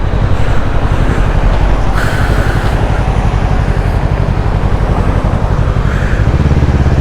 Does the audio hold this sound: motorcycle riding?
yes